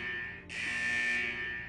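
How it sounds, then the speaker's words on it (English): A vault's central alarm in the video game Wuthering Waves sounds as a steady electronic buzzing tone that swells brighter and louder after a brief dip, continuous and fairly faint. "Is that the central alarm of the vault?"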